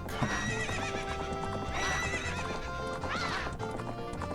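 A horse from Zelda: Majora's Mask whinnies repeatedly while its hooves clip-clop at a steady gallop, loud and continuous across several seconds, with a rising neigh near the end.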